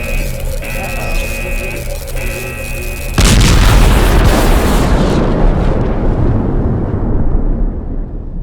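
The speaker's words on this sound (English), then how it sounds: "Destabilize the energy core. It's overcharging. Let's get the hell out of here. This thing is going to explode." An overcharged energy core in a video game explodes with a sudden loud boom that cuts off a humming electronic drone, then rumbles and crackles as the blast slowly fades.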